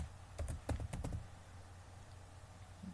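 Quick bursts of keystrokes on a computer keyboard, about eight close, crisp taps in the first second and a half, then quiet room hum.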